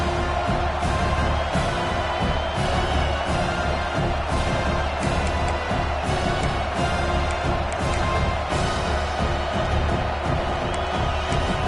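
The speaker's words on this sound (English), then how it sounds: "how nice is it to have the home crowd going absolutely bananas?" Home crowd noise from a football video game, a dense, steady roar of cheering that stays loud and constant from start to finish with no clear breaks.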